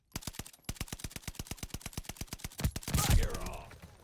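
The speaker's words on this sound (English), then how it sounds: "This guy didn't stop shooting the entire time." Rapid, rhythmic automatic gunfire in the Call of Duty Vanguard video game, a long unbroken string of evenly spaced shots that ends in a louder burst and some rumbling game noise.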